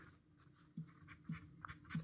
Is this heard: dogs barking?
no